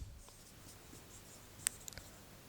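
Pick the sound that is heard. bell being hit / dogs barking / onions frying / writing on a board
writing on a board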